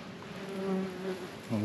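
Wasps buzz around a ground nest near Caen, a close, wavering drone that rises and falls as insects pass by, with one louder fly-by at the end.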